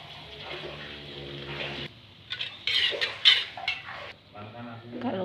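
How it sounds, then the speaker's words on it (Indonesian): Water and coconut milk poured into a cooking pan of fragrant spices for chicken-head opor, a steady splashing pour then louder bubbling and sizzling as the liquid hits the heat, with a voice talking over it. "kita masukkan sedikit air, lalu masukkan santan"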